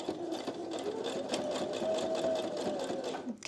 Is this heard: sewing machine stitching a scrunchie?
yes